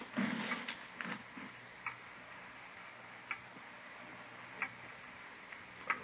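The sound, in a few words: loud ticking clock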